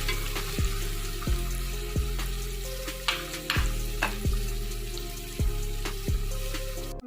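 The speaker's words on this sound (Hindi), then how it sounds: "इसको भी हम थोड़ा सा और भूनेंगे कि इसमें से लहसुन की स्मेल ख़त्म हो जाए" Garlic sizzles in a pan for an aloo palak dish, a steady frying hiss broken by regular scraping knocks as the spoon stirs, loud and close with no talking.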